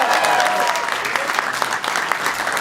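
Audience applause for a performer at a live show, a dense, steady wash of clapping from a crowd that holds at full strength throughout with scattered sharper claps standing out.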